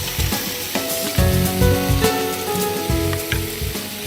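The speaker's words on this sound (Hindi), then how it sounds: "इसी के साथ आप डालें इसमें" Whisked yogurt poured into a hot pan for a cashew potato and yogurt shorba, bursting into a loud close sizzle with crackling spatters and scraping stir sounds throughout.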